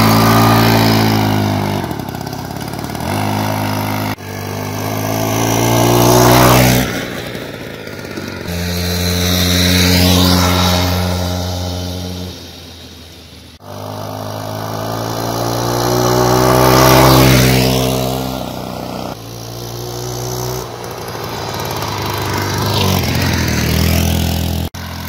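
A Peugeot 103 moped's small two-stroke engine runs close by. It revs up and down in repeated swells with buzzy, rising and falling pitch, and there are brief pauses between the throttle blips.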